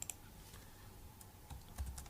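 Faint typing on a computer keyboard while entering a title for a PivotTable report, a few soft, scattered key taps in a quiet room, with a slightly firmer cluster near the end.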